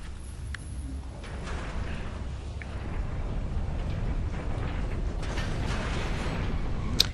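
Levers pulled in Gears of War 2 set off a creaking, clanking mechanism, with a steady grinding rumble, scattered ratchet-like clicks and a sharp knock at the end.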